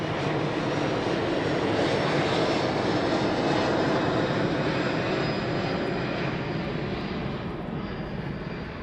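A West Atlantic cargo aircraft at East Midlands Airport at night, departing as a loud, steady jet engine roar that slowly fades toward the end, with no talking.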